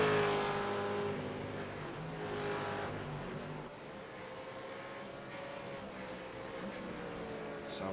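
V8 race cars at Willow Springs in a racing simulator drone along with a steady, high engine whine that fades slightly, continuous and mid-distance with no voices.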